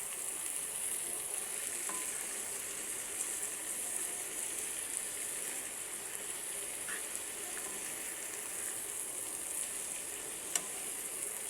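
Spinach being stirred and fried in a pan for palak paneer gives off a steady, soft sizzle, continuous and fairly quiet, with occasional faint clicks from the stirring.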